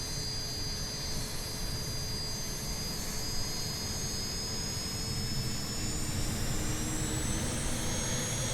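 A BAe T1 jet trainer's engine roars steadily on takeoff in Microsoft Flight Simulator, a loud continuous jet whine with a high tonal edge over broad rushing noise, no voices.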